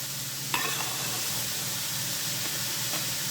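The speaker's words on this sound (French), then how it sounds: "je fais revenir les lardons avec les oignons" Bacon lardons browning with onions in a pan with no added oil, a steady soft sizzle and occasional stirring scrapes, close and continuous.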